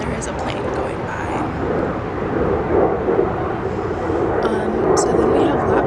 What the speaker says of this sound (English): And there is a plane going by.